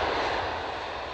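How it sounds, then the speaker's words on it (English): Airplane landing on an airport runway at night, a broad roaring engine wash that is loud and close and fades slightly over a brief moment. "Plane after plane hit the runway"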